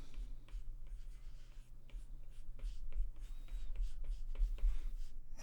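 Stylus drawing on a tablet screen in Procreate Dreams: a steady run of soft, close scratching and tapping strokes with short pauses between lines, quiet over a low electrical hum, no voices.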